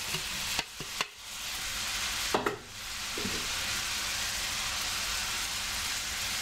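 Pie filling of small chopped beef and onion bits with bay leaves and rosemary frying in a pan, a soft continuous sizzle interrupted by a few clattering stirs early on.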